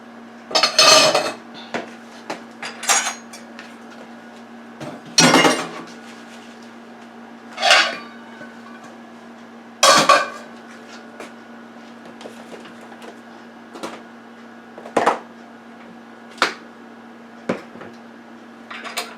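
A tiny teaspoon stuffs habanero peppers with shrimp filling, scraping and clinking sharply against a dish in a dozen scattered taps and clatters, close and fairly loud over a steady low hum, with no talking.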